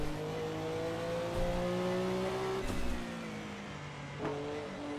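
Porsche 962 C race car engine in Assetto Corsa, droning loudly from the cockpit in third gear with sustained tones and abrupt pitch drops at gear shifts.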